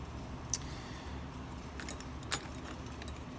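Antique furniture keys being handled, a few faint light metallic clinks and jingles over a steady low background hum, with no talking.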